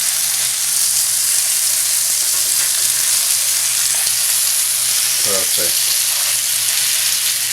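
Salmon burgers sizzle steadily in a hot pan, a constant bright frying hiss with occasional spatula scrapes and a brief word spoken over it.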